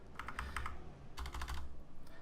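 Computer keyboard keys and mouse clicks tap in two quick, close bursts while a quantity is entered in a game menu, with a quiet hum underneath.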